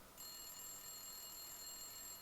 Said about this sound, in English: I was about to leave when the phone rang.